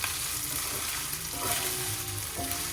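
Meat stir-frying with green beans, soy sauce and garlic in a hot pan, a steady loud sizzle with occasional scraping and stirring sounds throughout, no voices over it.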